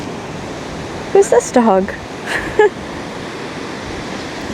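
Ocean surf on a Hawaii beach washes in a steady, broad rush, with a few short spoken words heard briefly over the waves.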